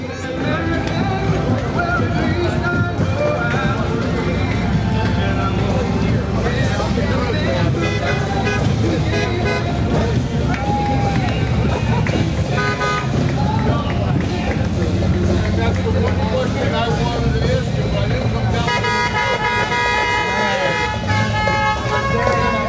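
Antique cars roll past in a Memorial Day parade in Clark Township, horns tooting over a steady, loud crowd and street din with music-like tones throughout, busier toward the end.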